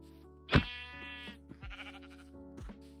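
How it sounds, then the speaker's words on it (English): A Minecraft sheep gives several short, wavering bleats at moderate volume, with a few quieter game sounds between them and no talking. "We got a little sheep here."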